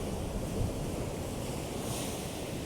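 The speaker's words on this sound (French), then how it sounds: "Je vous laisser voir une vague qui arrive." Large ocean waves roll onto a shore in a dense, continuous roar of surf mixed with wind rumble, swelling slightly near the end; no voices.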